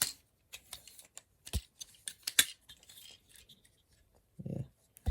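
Plastic parts of a Transformers War for Cybertron Earthrise Megatron figure click and snap as they are folded, a scattered run of small, close, sharp clicks with short pauses and a soft rubbing handling noise near the end.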